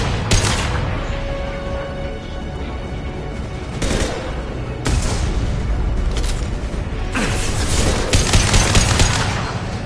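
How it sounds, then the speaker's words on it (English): A heavy weapon fires in the video game Mass Effect 2, sending out sharp booming blasts and bursts of gunfire in uneven volleys over a dense, loud battle din. "Heavy weapon."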